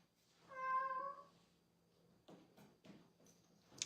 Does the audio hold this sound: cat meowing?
yes